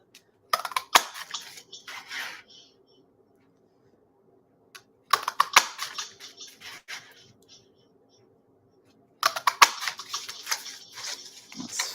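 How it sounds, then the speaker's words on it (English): A paper craft punch stamping lucky clover shapes out of card, with three separate bursts of crisp clicks and clacks, each a cluster of sharp snaps close by, separated by silence. "get my punch, and I'm just going to punch out some of my lucky clovers."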